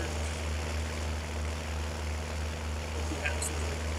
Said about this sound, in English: Boy, this tractor's working hard.